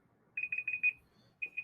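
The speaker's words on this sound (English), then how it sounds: "that timer is going to get to 0 seconds and it's going to go off" A focus timer alarm goes off in quick beeping bursts, four rapid double beeps followed by a pause and two more, clear and fairly quiet against near silence.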